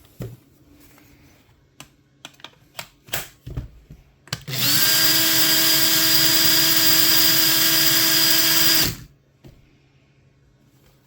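A repaired Makita 18V cordless drill, rebuilt from two dead units, runs in one steady, loud whine for about four seconds after a few scattered clicks and handling knocks, then stops.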